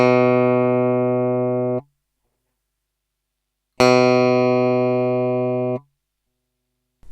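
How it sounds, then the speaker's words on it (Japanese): Guitar notes fretted on stainless steel frets: two separate sustained notes, each ringing for about two seconds with bright, jangly upper overtones before being muted, separated by silence; close and clear. "金属で押さえた時の方がちょっとこうチャリチャリシャリシャリしたような高音域の成分がより多く出てるってことがわかると思います"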